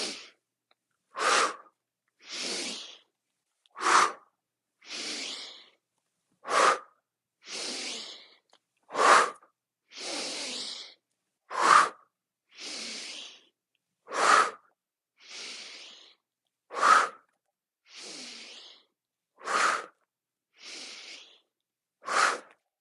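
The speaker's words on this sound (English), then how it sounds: "Exhaling in that vigorous way is expelling stagnant air" Seventeen forceful breaths pushed out through the mouth during a qigong full-body warm-up, each a short loud breathy burst repeating at a steady pace of roughly one every second and a quarter, with brief silences between them.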